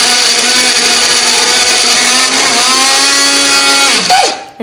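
Electric blender grinding a spice paste with a little water or oil for cooking, a loud steady motor whine that holds constant, dips in pitch as the load shifts near the end, then cuts off.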